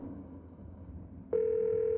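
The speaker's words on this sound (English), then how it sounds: "You pull out your phone and call." In the video game Scarlet Hollow, a phone call begins with a low, soft background hum, and then a clean, steady electronic phone tone cuts in abruptly and holds at constant volume.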